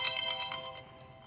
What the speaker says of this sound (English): Of course, his phone's going to be going off.